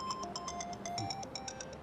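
A phone rings with a repeating electronic melody of quick, evenly spaced tones, clear and steady throughout, as a call comes in from the mother-in-law, with no talking.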